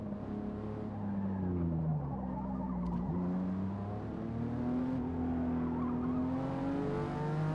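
A heavy car driven in Forza Motorsport on the Fujimi Kaido mountain road, its engine droning steadily with rising and falling revs and faint tire noise, loud and continuous with no talk.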